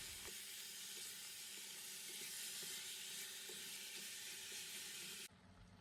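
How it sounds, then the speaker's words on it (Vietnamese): Beef marinated in red wine sizzling as it is stir-fried in a pan, a loud continuous hiss with faint scraping ticks, cut off abruptly near the end. "Xong mình sẽ cho thịt vào xào cho săn lại."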